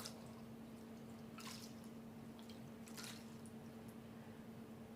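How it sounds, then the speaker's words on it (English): A washcloth is dipped into hot water in a bowl, giving a couple of faint, soft splashing squishes over a steady low hum, with no talking. "now I'm going to put the washcloth in the hot water I have here in a bowl"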